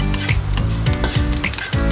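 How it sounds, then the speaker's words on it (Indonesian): Smoked fish sautéing in a pan for a taro soup, loud close sizzling with periodic bursts and scraping as it is stirred, no voices. "Kemudian masukkan ikan asapnya. Ini ditumis sampai wangi."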